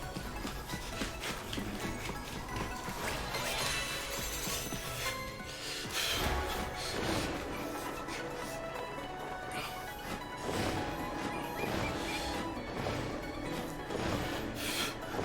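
Rough, continuous scraping and crunching from rock impacts in the Ring Fit Adventure video game, a busy dense texture at steady level with repeated grinding hits throughout.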